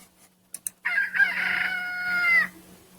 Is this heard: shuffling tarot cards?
no